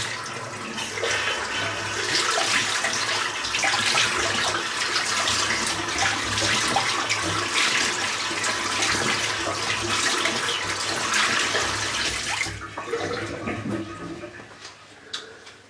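A tap runs steadily while a razor cartridge is rinsed under the stream, a loud continuous splashing hiss with small clatters, cutting off near the end to quieter drips and knocks.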